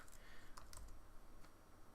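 Computer keyboard typing, a few quiet keystroke clicks in quick bursts, faint and close against a low background hum.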